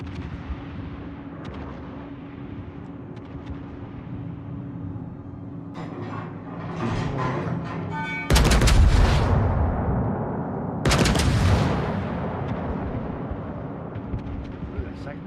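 Warship guns fire volleys in a naval combat video game, two heavy booming blasts around the middle and later in the clip, each with a rumbling decay over a steady engine-like background hum, with players talking over it.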